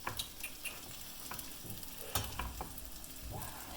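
Iraqi basturma and eggs fry in a hot pan with no added fat, giving a quiet, steady sizzle scattered with small crackles and pops, with no one talking.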